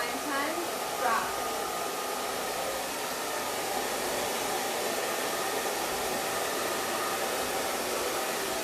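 A hair dryer blows continuously at close range while hair is blow-dried with a paddle brush, a steady whooshing hiss running throughout with faint brush movement near the start.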